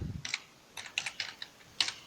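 Short bursts of keystrokes on a computer keyboard as a command is entered in AutoCAD Mechanical, close and crisp, in two quick clusters with a brief pause between them.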